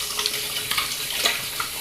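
A tap runs steadily into a sink while a mixed badger and boar shaving brush is rinsed under the stream. The close, constant hiss of water carries small splashy variations.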